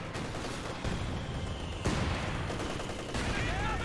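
Continuous gunfire and artillery in a Company of Heroes 2 battle: dense rattling volleys and booming impacts roll on without pause, loud and chaotic throughout.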